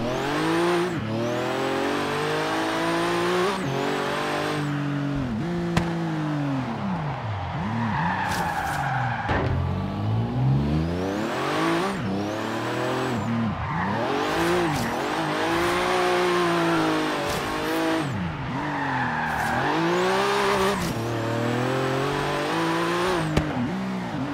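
A car driven hard in Forza Horizon 3, its engine revving up and down through repeated gear shifts with tire squeal and skidding, loud and continuous throughout.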